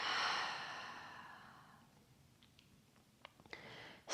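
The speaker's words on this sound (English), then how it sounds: "Go ahead, take a final deep breath in. And exhale out." A deep breath in and a long exhale, starting with a loud breathy sigh of air that fades slowly over a couple of seconds, followed by a few faint clicks and rustles close by.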